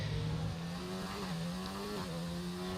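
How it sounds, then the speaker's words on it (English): An F1 car engine in F1 2019 revs in a low, steady buzzing drone whose pitch shifts down and then holds, continuous and fairly loud with no talk. "Revving that engine, going as close to the barrier as he can"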